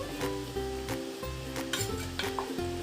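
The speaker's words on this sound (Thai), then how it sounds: "พอน้ำเดือดได้ที่นะคะ ป้าก็จะเอาน่องไก่ลงนะคะ" Steady sizzling and bubbling from a pot of boiling tom yum broth on the stove as chicken drumsticks go in, with brief utensil clinks and stirring noises throughout.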